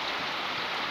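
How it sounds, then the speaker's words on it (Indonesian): Steady rain pours down over a rice field, a dense, even hiss of drops on the surface filling the short moment without a break, close and fairly soft. "Hujan guys, aduh."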